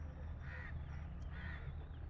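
Crows cawing around their nests in a eucalyptus tree at dusk in winter, two drawn-out calls about a second apart over a steady low background rumble.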